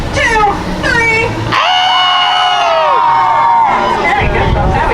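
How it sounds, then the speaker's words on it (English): A tour group on a ghost and gravestones tour in Saint Augustine lets out a loud, sustained scream together on cue, following a guide's speech and fading into chatter. "we're going to let off the best scream we got"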